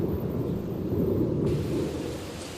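Thunder rolling through an electrical storm, a deep, continuous rumble that stays loud and heavy throughout, with a faint hiss above it and no voices.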